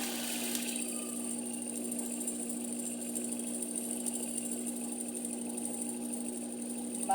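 A sewing machine runs steadily under pedal control with a constant whirring hum and a fine vibrating buzz, holding an even speed throughout.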